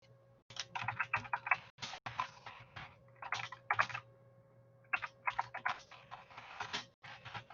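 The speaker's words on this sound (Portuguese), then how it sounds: "Vocês conseguem ver o texto que eu estou digitando" Keystrokes on a computer keyboard in quick, uneven bursts with brief pauses, clicking close and clear over a low steady hum during an online philosophy class.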